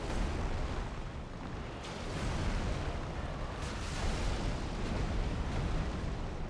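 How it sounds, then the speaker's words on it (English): A fire bomb goes off in Dark Souls III as a dense, continuous roaring blast of flame. It stays loud and close throughout with no clear pauses, and there is no talking. "that's why we have fire bombs"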